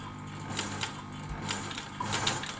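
An Elna sewing machine with a walking foot runs a zigzag stitch in a steady mechanical whirr, with faint rhythmic ticking repeating about every half second, heard close and moderately loud.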